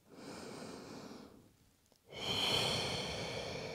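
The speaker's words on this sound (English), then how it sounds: "Breathe in through the nose." A close, soft breath drawn in through the nose, a short pause, then a louder breath out through the mouth, heard during a Pilates session.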